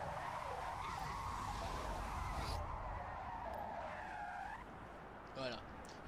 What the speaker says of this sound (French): elle drifte pas de la même façon que les voitures que je connaisse